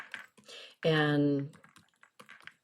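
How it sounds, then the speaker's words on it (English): Light clicking of fingers typing on a computer keyboard, soft and close, broken up by a brief spoken word in the middle. "Excuse my typing, everyone."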